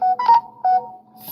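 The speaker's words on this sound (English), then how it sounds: "I have to check it every time my phone goes off" A phone notification chimes close by as a short series of clear electronic beeps and tones, a few pulses over about a second, with no talking.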